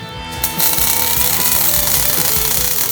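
Wire welding on a steel dagger billet, a harsh continuous buzzing crackle that starts abruptly and holds steady and loud at close range, with no voices over it.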